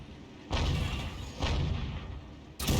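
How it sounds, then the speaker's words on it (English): An M44 self-propelled artillery gun fires in a tank battle video game, with three heavy booming blasts spaced about a second apart, each followed by a rumbling roar that rolls on close and loud. "And he's going to fire another one in."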